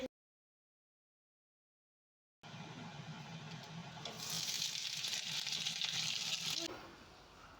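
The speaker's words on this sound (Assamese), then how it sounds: "চিকেনখিনিও ফ্ৰাই হৈ আছে" Chicken pieces frying in a pan for chilli chicken, a steady soft sizzle that rises after a silent start, with faint background noise and no talk.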